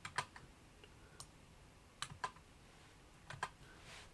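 Computer keyboard keys tapped to delete code, a few quiet, close clicks in short irregular bursts separated by near silence.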